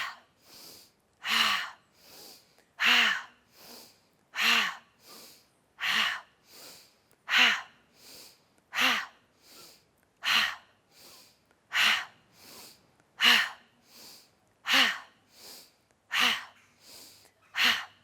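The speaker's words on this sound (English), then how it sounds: "So on the exhale, we audibly let out the breath." Forceful, rhythmic breaths repeat roughly every 0.7 seconds during a yoga twisting breath exercise, each exhale a sharp audible whoosh, close and steady across many cycles with no talking.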